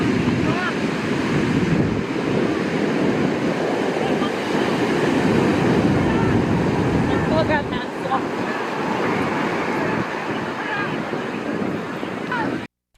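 Ocean waves roll and crash on a beach in a steady, loud wash of surf, with strong wind buffeting the microphone throughout.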